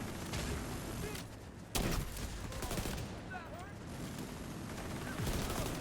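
Minigun and other gunfire in a Division 2 raid boss fight, dense continuous bursts with sharper cracks and impacts, loud and close, while players call out over it.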